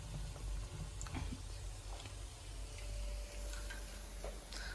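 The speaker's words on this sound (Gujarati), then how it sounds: "તો જો મસ્ત એના તળાઈ રહ્યા છે" Manchurian balls fry gently in sunflower oil with tomato, onion and tomato sauce nearby, a soft steady sizzle with scattered faint pops and ticks, quiet and without speech.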